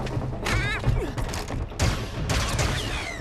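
Rapid bursts of blaster-style gunfire aimed at a fleeing droid in The Mandalorian, with thuds and crashes mixed in, loud and dense across a busy action soundtrack, with voices faintly underneath.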